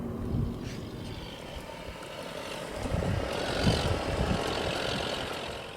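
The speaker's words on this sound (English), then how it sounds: "we are slowing down on the road because there is an orange tractor in front of us" Vehicle engine noise on a road in Texas while slowing behind an orange tractor, a low steady rumble that swells midway and stays fairly loud, with no talking.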